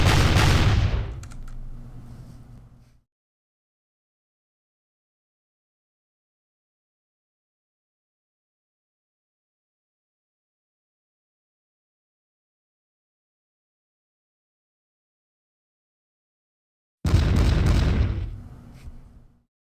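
Artillery fire in the Pike and Shot video game, with two loud booming blasts, one at the start fading over about three seconds and another near the end, separated by a long stretch of silence.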